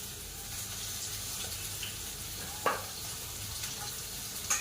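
Garlic paste and green chillies frying in a pan on a kitchen stove, a steady soft sizzle with a few sharper clinks and stirring knocks, fairly close and without talking.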